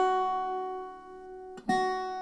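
A single note is played on a slide guitar with the slide pressed all the way down to the fret, giving a clear sustained tone that fades slowly, then a brief scrape and a renewed attack near the end.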